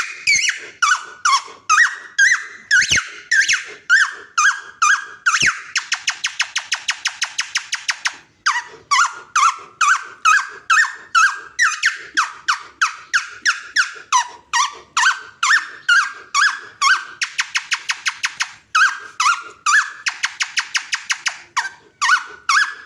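A person whistles or mouth-imitates bird calls, rapid high chirps and warbles in quick repeated bursts with short trills between, loud and close throughout with no talking.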